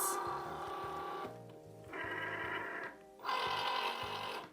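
A Cricut Joy Xtra cutting machine powers on, giving a mechanical whirring and rhythmic motor hum with brief stepped tonal beeps, running in two bursts separated by short pauses, close and moderately loud with no talk.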